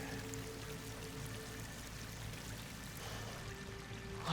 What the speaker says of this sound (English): Water's coming in.